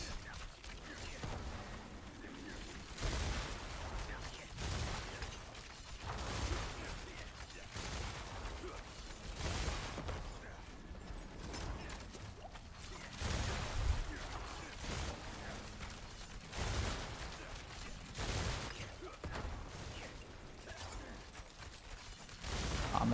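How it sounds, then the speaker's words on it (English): Rapid Fire ability shots crack in quick irregular bursts in a video game, sharp repeated pops over a busy mechanical background with a voice talking intermittently. "this is definitely Rapid Fire"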